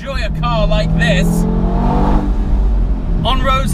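An Audi TT RS soft top driving fast on a winding road, its engine giving a steady loud drone that rises slightly in pitch. Someone speaks over it at the start and end.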